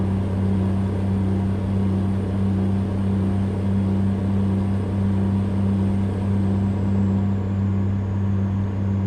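Truck engine in American Truck Simulator rumbling steadily at a low, constant drone, loud and unbroken, with no clear rise in revs.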